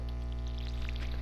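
Watering crops in the video game Stardew Valley, a steady pouring water sound over a constant low hum, short and even in loudness.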